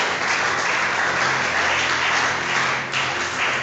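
Sustained applause from a church congregation fills the room, a dense steady clatter of many hands clapping throughout with a brief dip near the end.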